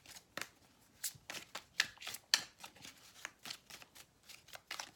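A deck of tarot cards is shuffled close up, a run of crisp riffling flicks and soft slaps in an uneven rhythm, quiet and alone.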